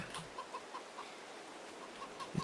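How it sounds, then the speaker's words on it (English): Speckled chickens in the Farming Simulator 22 farm game clucking softly at a distance, a series of short, evenly spaced clucks over a steady low background hiss, with one louder close cluck near the end. "I can hear them at the other side of the... Oh! Oh! Look at that! It is a speckled chicken."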